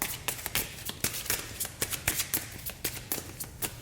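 Angel Romance oracle cards being shuffled by hand, a quick run of crisp riffling and tapping bursts close by, repeating in an uneven rhythm with no voices.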